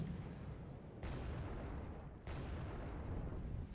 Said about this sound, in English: We do have some anti-tank missiles coming in on us.